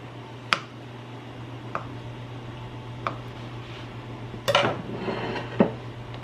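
Jellied cranberry sauce sliced on a plate with a knife: a few sharp clinks of metal on china spaced a second or so apart, then a short cluster of scraping taps, over a steady low kitchen hum.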